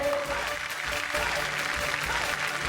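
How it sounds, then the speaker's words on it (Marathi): Dense, steady applause from a television studio audience, continuous clapping filling the whole stretch without a break. "जोरदार टाळ्या होऊन जाऊ देत."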